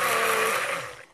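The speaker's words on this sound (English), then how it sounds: "I'm not running my stick blender, I'm just kind of doing it in bursts" A stick blender churns soap batter in a short burst, a loud steady whir close by that tapers off near the end as the motor eases down.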